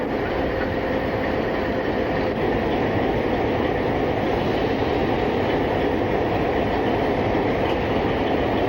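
Ex-BC Rail diesel locomotive at the Obregon turntable on Mexico's Pacifico Railroad, a steady, loud rumbling drone of engine and rail noise running continuously throughout with no talk.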